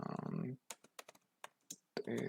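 Typing a command on a computer keyboard: a handful of crisp, close keystrokes in an uneven rhythm, with talking before and after.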